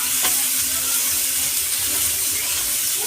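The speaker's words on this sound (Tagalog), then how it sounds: "Ating gigisa sa sariling mantika" Pork frying in its own rendered fat for pancit, a steady dense sizzle and crackle filling the clip at close range with no talk.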